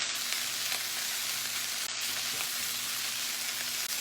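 Chicken fried rice sizzles steadily in a greasy skillet, a continuous close frying hiss with faint scrapes as the rice is stirred and moved around the pan, no voices.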